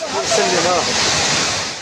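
Floodwater rushes through streets in Safi, Morocco, as a loud, steady roar of churning water, with a brief voice-like trace near the start.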